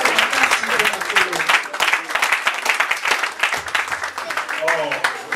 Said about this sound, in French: est-ce qu'on peut acclamer très fort pour le Seigneur?